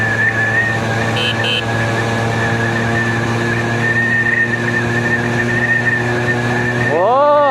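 A Suzuki AX100 two-stroke motorcycle rides along a road with a steady, loud engine note and road rumble, and a rising revving sweep comes near the end while someone talks over it.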